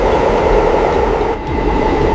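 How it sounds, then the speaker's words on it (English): Loud, steady rumble and roar of a New York subway train running underground, a continuous dense rush with a brief dip midway and no voices. "In 1904, New York opened its first subway line"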